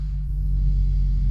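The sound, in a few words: wrecked BMW M2 engine starting and running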